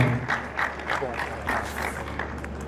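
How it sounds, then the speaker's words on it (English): Audience applause fills a university inaugural lecture hall as a professor is welcomed, steady broadband clapping at moderate level with a voice speaking over it. "Please put your hands together for her."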